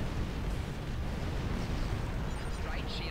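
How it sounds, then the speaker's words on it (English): Massive explosion of a destroyed dreadnought starship in the space combat game Star Trek Online, a dense continuous roaring rumble with crackling debris, loud and sustained throughout. "That was a big explosion"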